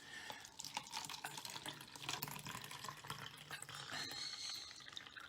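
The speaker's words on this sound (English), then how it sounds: "I'm going to fill this cup with tap water" Tap water runs steadily into a cup being filled, a soft continuous splashing and trickling at close range with no talking.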